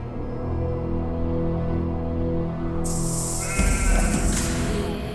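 Sheep kept by a Bedouin shepherd boy give one long, drawn-out bleat, followed by a burst of hissing, rushing noise.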